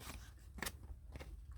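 Scissors snip through paper while a Peter Rabbit layered junk journal tag is cut out, a few quiet, crisp close-up cuts with a sharper snip near the middle.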